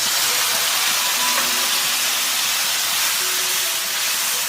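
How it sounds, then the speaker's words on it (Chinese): Continuous loud hiss and bubbling of water brought to a boil in a pan over pork and taro, steady throughout with faint tonal whistles and no voices. "再加入小半碗开水煮开。"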